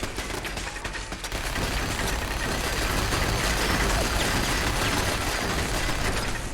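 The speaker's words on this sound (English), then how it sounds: "Oh my god, with the machine guns." Dense, continuous machine gun fire in the video game Fallout 4, a loud rattling barrage that keeps up without pause for several seconds.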